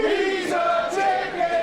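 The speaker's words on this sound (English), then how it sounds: "these 2PW crowds calling Bronco McBride a chicken" A wrestling crowd at a 2PW event chanting and jeering at Bronco McBride, calling him a chicken, a loud sustained mass of voices with rising shouted tones.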